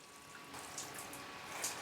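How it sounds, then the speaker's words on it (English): Freshly sown seed pots in a greenhouse being watered, a faint, soft trickle and splash of water running continuously for a moment. "add water to both these"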